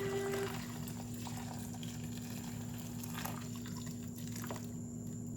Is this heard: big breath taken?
no